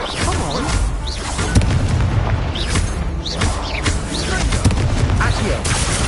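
Fire spell cast repeatedly in Hogwarts Legacy, with loud booming, crackling bursts and whooshes layered over dense continuous game sound effects.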